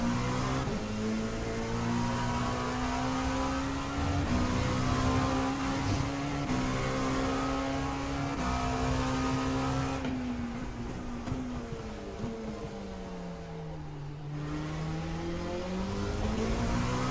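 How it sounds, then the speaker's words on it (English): A race car engine in the iRacing simulator drones at high revs, its steady note climbing and falling as it accelerates and eases off. The sound is loud and continuous, with a brief dip partway through. "God, that engine's so gutless compared to the Porsche"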